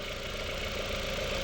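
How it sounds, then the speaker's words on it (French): A Golf 4 GTI petrol engine idles while warming up, a steady close mid-pitched hum with an even mechanical texture and no change in revs, alone without voices. "Donc on chauffe le moteur comme je vous ai dit hein."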